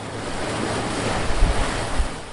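Surf rolls onto the beach at Frenchman's Cove, a Caribbean lagoon in Jamaica, as a steady close wash of breaking waves with wind noise over the microphone and a couple of louder swells.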